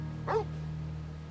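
A single short, faint bark from a dog in the Final Fantasy XIV video game rings out once early on, then fades into a steady low hum.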